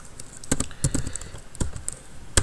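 A command being typed on a computer keyboard in a Linux terminal: quick, uneven key clicks, close and clear, with a few louder keystrokes in between.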